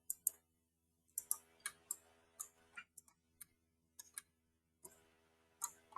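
Sharp computer mouse clicks while working in CATIA design software, scattered single and double taps at an irregular pace, close and quiet over a faint background hum.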